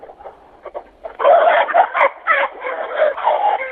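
A rooster in a henhouse among the hens is held up in someone's arms, clucking and crowing in loud, broken bursts close by, with faint background voices at the start.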